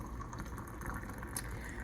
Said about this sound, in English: Sorry, gotta pour my tea here.